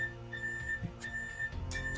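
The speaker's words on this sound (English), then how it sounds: "That's just the alarm saying that it's time for the next lesson." A classroom alarm marking the next lesson sounds as a faint, thin, high electronic tone that comes and goes in short repeated pulses, with some low background noise.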